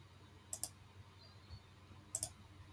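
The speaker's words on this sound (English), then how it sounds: "now I can go ahead and click on" Two pairs of quick, faint mouse clicks about a second and a half apart in a quiet room, made while selecting a suggested prompt in Microsoft Copilot Studio.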